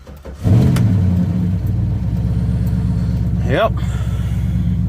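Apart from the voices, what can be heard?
car engine being jump-started with a jump box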